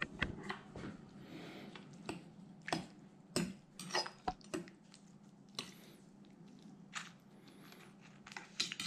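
Roast pheasant and potatoes with girolle mushrooms are stirred together in their juices, giving soft wet squelches and scattered utensil clinks against the dish in an uneven rhythm, close and fairly quiet.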